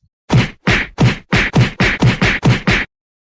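Nine punch-in-the-face sound effects hit in quick, evenly spaced succession, each a sharp, loud thwack with a brief swishy tail, followed by silence.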